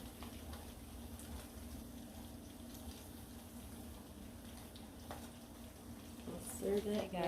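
Eggs fry in a hot pan for spicy ramen and Spam soup, a steady close sizzle and crackle that swells louder near the end, with brief talking mixed in.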